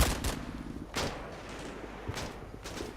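Gunfire in the WWII game Combat Mission: Battle for Normandy: scattered distant rifle and machine-gun bursts, several sharp reports spaced irregularly over a low battlefield rumble, fairly quiet.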